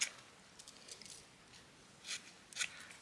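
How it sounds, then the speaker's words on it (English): Scissors snip small scraps off recycled packaging in a quiet room, several soft, crisp cuts spaced irregularly with faint handling rustle between them. "Cut those little bits off."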